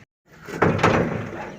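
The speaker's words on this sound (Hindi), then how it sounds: "ठीक है भैया चलो खोलो दरवाज़ा खोलो" A door swings open after a brief silence with a loud rattling scrape and clunk, then a lingering rumble fades out.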